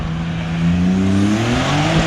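A Bi-turbo car engine fitted with a new silencer revs up, a smooth rising and falling drone that sounds close and steady, with no talk over it.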